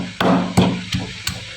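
Four dull, muffled thuds from a pestle pounding garlic and green chilies in a mortar set on a folded cloth in a home kitchen, evenly paced and close, each blow deadened with a short body.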